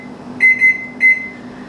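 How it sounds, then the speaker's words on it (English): A kitchen timer being set beeps three times, two quick tones close together and then a third after a short pause, clear and close over a faint low hum in a quiet home kitchen. "I'll probably set 5-hour timer"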